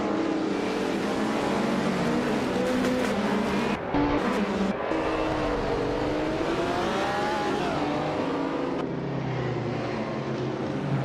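Video game race with a vintage 1970 AMC Javelin among other cars: loud, continuous engine roar with shifting pitch as cars rev and accelerate, a short dip near the middle before the dense racing noise resumes.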